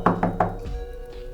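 Three quick, close, solid knocks on a door in an even rhythm, followed by a softer thud and quiet room tone.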